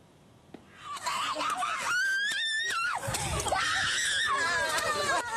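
Villagers in Powoso Jaya, South Konawe, Southeast Sulawesi, scream hysterically during a land dispute with police officers, with high, wailing cries rising and falling continuously and a confused jumble of shouting voices close by.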